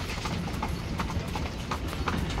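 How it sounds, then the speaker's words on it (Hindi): Horses trotting in a line while pulling a caravan at a Tunisian oasis, a steady continuous clip-clop of many hooves under broad outdoor rumble, close and fairly loud throughout. "बड़े मज़े से ये घोड़े दौड़ रहे हैं और सारे काफले को लेके जा रहे हैं ये कतार में।"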